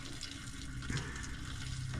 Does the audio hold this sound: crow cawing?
no